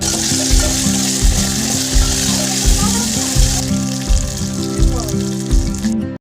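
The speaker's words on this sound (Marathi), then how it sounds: "मग त्यात मी कढीपत्ता टाकते आणि ते पण व्यवस्थित परतवून घेते" Curry leaves frying in hot oil in a pan with garlic, a loud, continuous close sizzle and crackle with a rhythmic stirring or scraping pulse underneath.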